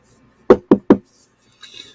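Three quick firm knocks rap on a door in an even rhythm, close and loud, followed by a faint brief rustle.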